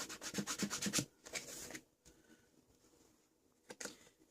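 Inca Gold metallic paste rubbed by hand onto a textured art journal page layered with napkins and modeling paste: close, scratchy rubbing strokes in a quick rhythmic run, then a pause with softer scuffs and one last short stroke.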